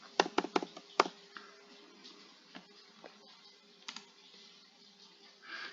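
Computer keyboard typing questions into a Power BI Q&A box: a quick burst of clicky keystrokes up front, then sparser, softer taps and pauses, fairly close and alone with a faint steady hum beneath.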